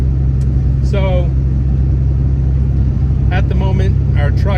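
A truck towing a trailer climbs a massive, steep hill, its engine droning in a low constant rumble beneath talk, with a damaged trailer and newly fitted suspension parts.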